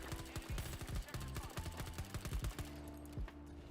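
Burst-fire gunshots in Battlefield 2042 crack in rapid clustered volleys, fairly faint and distant-sounding, with a final short burst after a brief pause.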